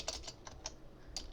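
Computer keyboard typing while a label is entered in a Free Pascal Lazarus programming project, with soft, irregular keystrokes in quick succession, quiet and alone.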